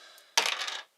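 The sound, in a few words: dice rolled for tabletop board game Shadow of Brimstone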